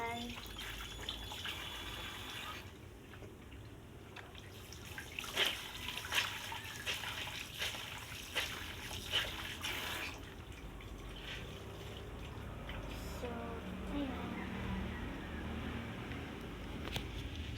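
Dishes being washed by hand under running water in a cluttered home kitchen, a steady broadband wash of flowing water with intermittent clinks and splashes throughout, fairly close, with occasional talk over it.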